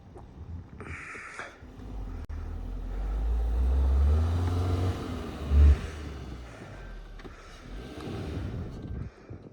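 A car reverses slowly on a snowy mountain road between Manali and Sissu, its engine a low rumble that swells into a heavier strain midway, with a brief thump, then eases back.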